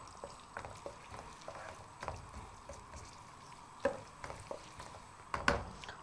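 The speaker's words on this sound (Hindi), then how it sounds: "2 अदद प्याज और इसको आपने अच्छी तरह लाइटली सा फ्राई करना है" Two onions fry lightly in a pan with a soft, quiet sizzle, broken by occasional stirring clinks and scrapes, close with no talk.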